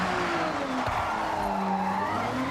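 Sustained tire squeal from a drifting car in the Assetto Corsa racing sim, with a steady engine note underneath and a brief thump partway through, loud and unbroken throughout.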